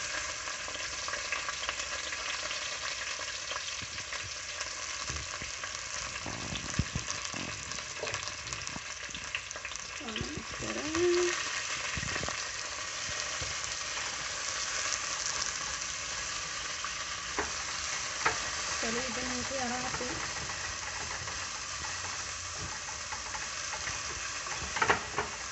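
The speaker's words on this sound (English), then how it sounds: "You don't want the oil to get too hot before you add the onions." Onions fry in hot oil for corn meal sauce, giving a continuous soft sizzle that lasts throughout, with occasional faint clinks and stirring sounds and no talking.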